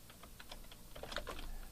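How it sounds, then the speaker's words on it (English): Typing on a computer keyboard at a desk, a quick run of light key clicks followed by a slightly denser cluster that ends with a press of the return key, close and quiet, no voices. "hit the return key on my keyboard"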